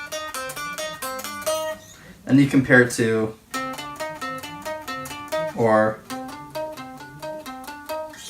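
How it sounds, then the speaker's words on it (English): Guitar notes plucked on the G string and compared with the D string, a run of clear repeated single notes with a speaking voice breaking in twice between them. "the G string has a lot more of a thinner tone than the D or A string"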